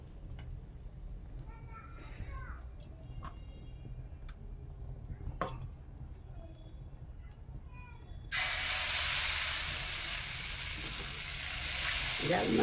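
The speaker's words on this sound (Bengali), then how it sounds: "আর একটু প্রথমে তাওয়াতে তেল দিয়ে দিচ্ছি" Oil hits a hot tawa griddle and bursts into a loud, steady sizzle after a quiet stretch of faint kitchen clatter, then hisses on continuously and close by.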